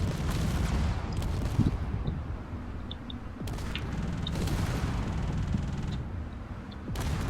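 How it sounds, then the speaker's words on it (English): A damaged drone's turret gun in a drone combat video game fires sharp bursts at intervals over a continuous grinding, mechanical rumble, loud and close, with no voices. "He's basically using his gun for propulsion."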